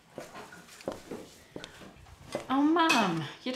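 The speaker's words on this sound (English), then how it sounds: "Oh, Mum, you don't need to do the dishes." Pots and cutlery clink softly in a home kitchen as dishes are washed, a few light knocks before a voice speaks over them.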